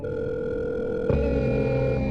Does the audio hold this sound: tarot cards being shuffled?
no